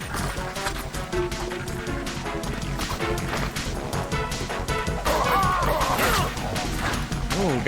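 Repeated heavy melee strikes and crashing impacts in Metal Gear Solid 2: Substance on Xbox, loud thuds landing in quick succession amid dense game sound and music.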